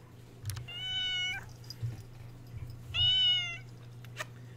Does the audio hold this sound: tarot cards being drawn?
no